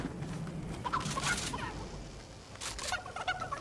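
A live chicken gives a few short, fairly faint squawking clucks over a low background hum.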